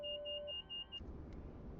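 Alarm in the cockpit of a Bell 206B3 helicopter starting up in the CowanSim flight simulator: a loud steady electronic tone that stops after about a second, giving way to a low rumbling engine-start background.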